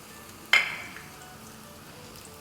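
Bay leaf, black cumin and cardamom hit hot oil with one sudden sizzling burst that fades quickly into a quiet, low crackle. The sound is close but soft, with no talking.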